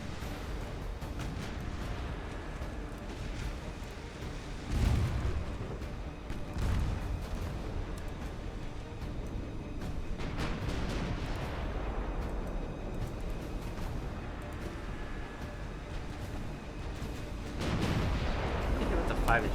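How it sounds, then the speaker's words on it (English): Battleship guns, including 12-inch main guns, firing during a fleet engagement in Ultimate Admiral Dreadnoughts, deep booming blasts spaced several seconds apart over a rumbling battle backdrop, with a voice talking over it. "12-inch gun just slapped through the forward section of the ship"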